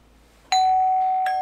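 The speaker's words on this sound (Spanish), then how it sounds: "Vamos a llamar al timbre." Doorbell pressed at the building president's home, a loud two-tone electronic ding-dong with a sustained chime ringing out alone in a quiet hallway.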